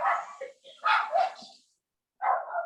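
A small dog barks and yips in short bursts, close and fairly loud, with a pause before a final bark; indoors over a video call.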